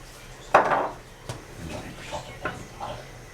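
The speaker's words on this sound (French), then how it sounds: "je retouille avec ma cuillère" A metal spoon scrapes and clinks in a lasagne pan, one sharp knock followed by several lighter taps and stirring scrapes, close and fairly quiet.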